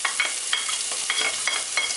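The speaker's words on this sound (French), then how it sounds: "Quand l'huile n'est pas trop chaude, on met notre petit morceau de poireau dedans." A small piece of leek frying in moderately hot oil, a steady bright sizzle with soft popping crackles throughout, close and even, no voices.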